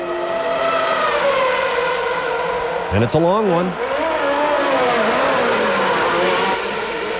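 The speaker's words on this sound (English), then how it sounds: "Benetton pit stop here. That's J.J. Leto's car." Loud, continuous Formula 1 engine noise during a 1994 Benetton pit stop for J.J. Leto, with a sharp rising whine as the car revs mid-clip; a commentator talks over it.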